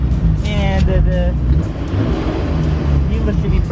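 A Nissan Skyline GT-R R34 idling with a steady low engine rumble, close by, under ongoing talk and with a few brief tonal chirps near the start.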